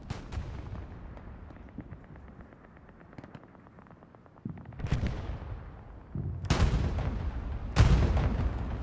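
Artillery fire in a team battle video game: a low rumbling backdrop, then three loud booming blasts a second or more apart. Each blast is heavier than the last, with long rolling tails.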